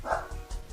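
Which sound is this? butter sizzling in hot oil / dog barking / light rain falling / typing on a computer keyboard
dog barking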